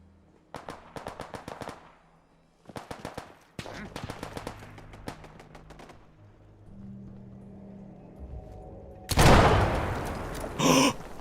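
A turret is blown apart by a weapon in Fallout 4: rapid bursts of gunfire, then a loud, sudden explosion that erupts and roars briefly, with a second blast close behind.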